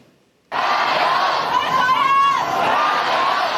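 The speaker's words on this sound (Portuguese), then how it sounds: "Uma multidão foi às ruas para protestar mais uma vez contra a extradição de criminosos para a China e contra o governo." A large crowd of protesters fills a Hong Kong street, a dense, loud roar of many voices with shouts and cheers rising and falling continuously after a brief quiet start.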